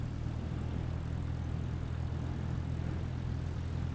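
A propeller plane's engine held at full power in a flight simulator, a dense steady roar with a strong low droning hum, loud and unbroken for the whole stretch, with no other sounds over it.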